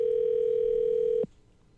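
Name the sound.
telephone dial tone placing a live phone call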